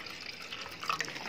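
Clean water poured into a container during a classroom experiment on soluble and insoluble materials, a soft steady trickle with faint drips over a noisy background.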